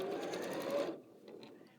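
A sewing machine runs briefly, stitching on a piece of fabric for a quilt, a rapid steady motor clatter that stops abruptly, followed by a few faint clicks.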